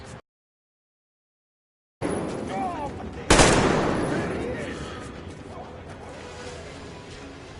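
Gunfire in the video game Metro Exodus: after a short silence, a sharp loud blast bursts out and rings into a decaying roar, with game voices and combat noise mixed underneath.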